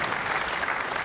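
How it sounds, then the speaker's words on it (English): A crowd at a Weber Cup ten-pin bowling match claps warmly for a home player, a brief, dense burst of applause filling the arena without letup. "it's applause of encouragement for local boy, Paul Moor"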